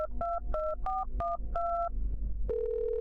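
A telephone dials a neighbor in a horror video game: a quick series of six close DTMF keypad tones in uneven rhythm, followed by a steady ringback tone.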